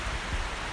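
Rain falling outside, a dense steady hiss of drops spread across the whole short moment, with no voices.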